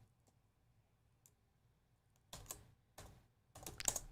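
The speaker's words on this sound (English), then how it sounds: "I'm typing this out so I can see it myself." Clustered keystrokes clatter on a computer keyboard, starting with a few sparse taps and then breaking into three quick bursts of typing close to the mic in an otherwise quiet room.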